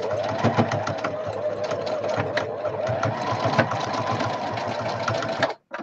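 A home sewing machine runs steadily for nearly six seconds with a dense, rapid mechanical whir and needle clatter, loud and close, before stopping abruptly near the end; light talk is faintly mixed in.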